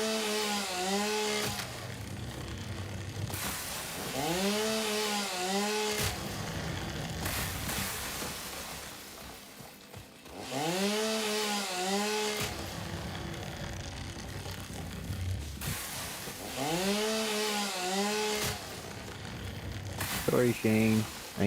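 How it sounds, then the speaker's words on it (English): A chainsaw in the video game Satisfactory revs up and winds down in three loud, drawn-out bursts with rising and falling pitch, separated by short lulls, while a voice talks in between. "Chainsaw safety, chainsaw safety."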